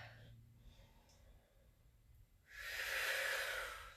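Quiet breathing during a yoga class, a faint inhale followed by a louder, airy exhale up close, with no one talking.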